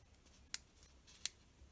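Scissors cut a piece from a stationery sticker sheet with two crisp, close snips about a second apart and faint handling noise in between.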